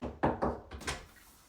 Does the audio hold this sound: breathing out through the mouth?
no